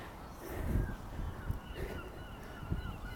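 Large seagulls in England calling nearby, a few loud honking cries spaced across a few seconds over outdoor background noise.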